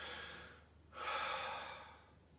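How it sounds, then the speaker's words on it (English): One deep, slow breath drawn in and then released, close and quiet, a soft airy rush with no talking. "The next thing I do is I take a really nice deep breath."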